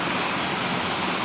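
A waterfall pours into a deep, clear swimming spot in a Gangwon-do valley, a loud, steady broadband rush of falling water that stays constant and fills the whole moment.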